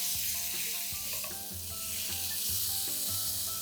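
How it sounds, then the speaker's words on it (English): Spice paste sizzles and fries steadily in hot oil for a Bengali-style ghugni, with occasional stirring scrapes over a constant close, bright crackle and no talking. "Now to this we are going to add our spice paste and we are going to cook it till the oil releases."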